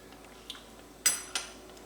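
A small spoon clinks against dishes while cheese manicotti is cooked from scratch, with a faint tap, then two brighter clinks close together, near and fairly quiet.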